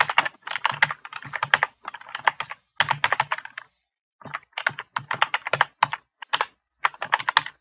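Typing on a computer keyboard, bursts of quick, crisp key clicks in irregular runs separated by short pauses, close and clear with no talk.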